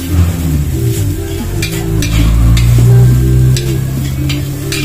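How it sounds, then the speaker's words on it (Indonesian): Rice stir-fried with spices in a pan for a Minang breakfast in Bukittinggi, with a steady sizzle and scraping stirs running throughout, fairly loud and close. "Jadi langsung digoreng nasinya."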